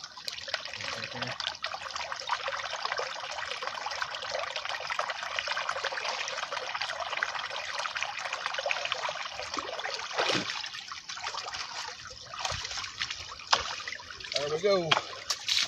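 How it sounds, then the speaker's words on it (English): Water runs steadily through a small outdoor stream, a continuous broadband trickle and rush close to the microphone, with someone speaking briefly over it. "You can see the water is running pretty good."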